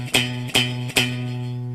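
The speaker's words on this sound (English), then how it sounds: "you get what's called fret buzz that sounds like this" Guitar fret buzz from a fretting finger placed too far from the fret wire: three plucked notes in steady succession, each with a buzzy, rattling attack that rings and decays, fairly quiet and alone.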